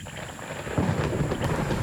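Thunder rumbles over steady heavy rain in the Amazon, a low roll swelling midway under a constant hiss of falling water, loud and close, with no voices.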